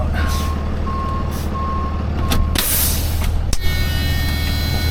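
Truck reversing with a steady series of evenly spaced reversing beeps over a loud diesel rumble, nearby, followed by a hiss of air brakes.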